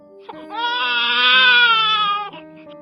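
An infant's cry in an audio drama: one sustained, strained wail rising near and loud for about two seconds, closing with short sobbing catches at each end and no talk over it.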